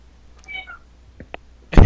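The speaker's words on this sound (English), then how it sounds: "my cat apparently wants attention" A pet cat gives a couple of short, close meows while quiet background sounds continue, followed by a sudden loud burst at the end.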